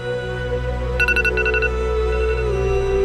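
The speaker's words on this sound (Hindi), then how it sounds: "आलिया बेबी, आपका मोबाइल कब से बज रहा है?" A mobile phone rings with a short burst of bright, pulsing electronic tones over a steady background hum, close by and alone.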